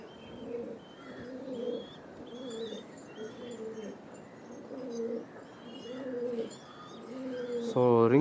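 Highflyer pigeons of the Jack pori breed coo in steady repeated rounds close by, a soft rhythmic burbling that continues throughout with faint background noise.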